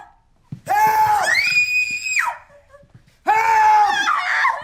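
A woman's scream from a horror film scene, two long, loud, high-pitched shrieks separated by a brief pause, the first rising and sustained before breaking off.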